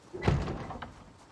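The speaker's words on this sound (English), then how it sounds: "That means a zombie is banging on one of our walls" A zombie bangs against a wall of a survivor's base in the game Project Zomboid: one muffled, heavy thump with a short rumbling tail, followed by a fainter knock, heard alone with no talk.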